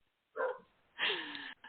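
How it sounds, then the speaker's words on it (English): A dog barks twice in close succession, loud and near, the second bark longer and more drawn out, with a short yip trailing after in an otherwise quiet room. "I'm trying to get the dog to stop barking without yelling at him."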